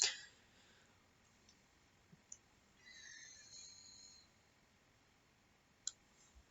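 Faint, isolated computer keyboard and mouse clicks in a quiet room: a few sharp taps scattered over several seconds, with a soft rustling swell in between.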